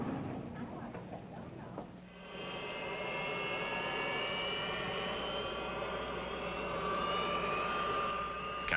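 Jet airliner engines run steadily at an airport gate before taxiing, a rising whine and roar that holds loud and constant after a brief dip.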